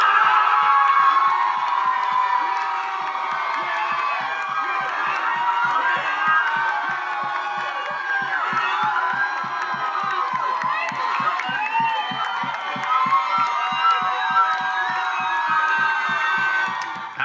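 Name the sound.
crowds outside cheering after the Obamacare repeal bill failed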